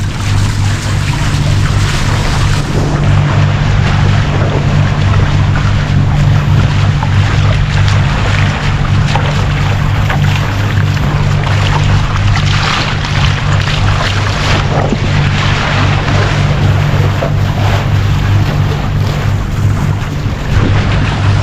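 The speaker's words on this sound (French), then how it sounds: "je vais vous laisser écouter la mer" Open sea heard from a sailboat off the French coast near Port Camargue: constant rushing wind and water wash with a steady low hull drone, loud and unbroken, no talking.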